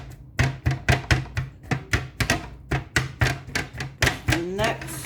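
A utensil chops and scrapes through fully cooked ground beef in a pan, a steady series of about a dozen sharp, close knocks in an even rhythm.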